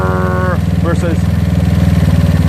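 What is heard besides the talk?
GY6 scooter engine running with tuned OKO 30mm carburetor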